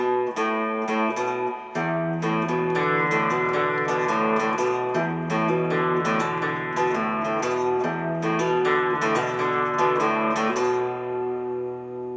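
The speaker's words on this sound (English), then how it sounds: "So I'm plucking the A string, down stroke, 2 more plucks of that" Plucked guitar notes on the A string ring out one after another in a steady stream of down strokes, clear and close with no talking.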